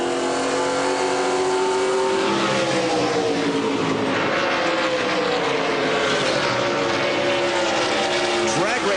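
Late-1990s NASCAR Southwest Tour race cars, with the loud, sustained engine roar of several cars passing close together on an oval on the final lap, shifting in pitch, while a commentator talks over the noise throughout.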